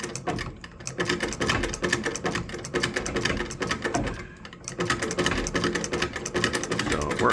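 An 1870s Howe model B sewing machine running after a tensioner repair, a rapid steady mechanical clatter of needle and shuttle with brief pauses, close and continuous.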